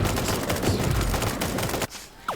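Rapid gunfire from the online game Super Animal Royale rattles in a dense, continuous burst of shots, loud and close, then cuts off abruptly near the end, leaving a quieter tail.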